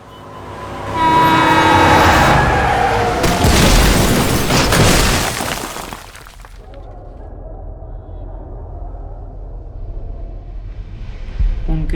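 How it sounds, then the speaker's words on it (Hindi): In a film scene, a loud, rumbling crash of a truck striking a house and the roof collapsing builds into a dense roar with a horn-like blare, then gives way to a low lingering rumble and debris. "उनके घर में ट्रक लग गया और छत नीचे गिर गई।"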